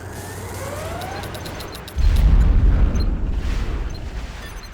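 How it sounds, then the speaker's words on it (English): A bomb strike lands in the Command & Conquer Generals strategy game, a deep, heavy boom that hits suddenly after a quieter hum and rolls on as a loud, rumbling tail. "Here come the bombs."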